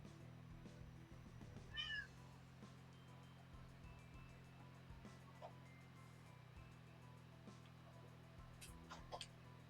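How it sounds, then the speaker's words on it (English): A house cat yowls loudly at a door in one short, high cry, faint and somewhat distant against a steady electronic hum, with a few scattered clicks afterward. "My cat's screaming at my door."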